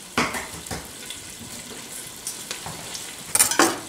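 Butter melting into hot oil in a soup pot, a soft crackling sizzle with a few sharp pops and stirring scrapes, fairly close and without talk.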